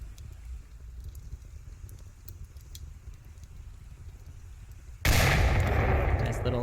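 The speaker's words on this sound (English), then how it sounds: "shots come out surprisingly from the offense towards the defense" Gunfire in the VR tactical shooter Onward, a competitive league match: faint scattered shots under a commentator's voice, then a sudden loud burst of dense firing near the end.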